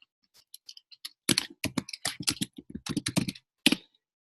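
Someone types on a computer keyboard into a food tracker: a few scattered key taps, then a quick uneven burst of crisp, close clicks, ending with one firmer keystroke.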